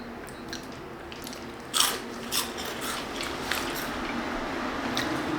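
Cheese crisps from a university vending machine being bitten and crunched close to the mic, a few sharp crunches followed by lighter chewing crackles over a steady background hum, with no talking.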